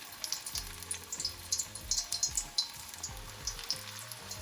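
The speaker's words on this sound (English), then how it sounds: "fry it on medium to low heat" Spinach and onion pakoras sizzle in hot sunflower oil over medium-low heat, with a steady crackle, soft popping bubbles and occasional stirring, all close and quiet with no talking.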